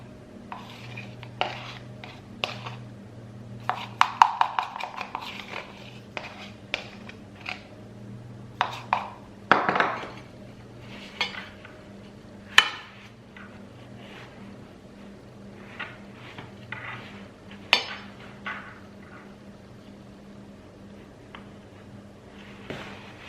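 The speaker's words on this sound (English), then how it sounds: "We can give it another mix while it's going in here as well" Coloured cake batter being mixed in a bowl for a rainbow cake, with soft scraping and clinking of a utensil against the bowl in irregular strokes over a low steady background hum, no talking.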